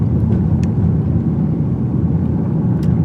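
A 2019 Lexus RC-F with a V8 in sport mode circles steadily through a tight turn, its engine giving a loud, continuous low rumble heard close up.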